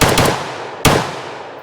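Two sharp semi-automatic rifle shots from a pre-ban Steyr AUG bullpup, spaced under a second apart, loud and close, each followed by a decaying echo.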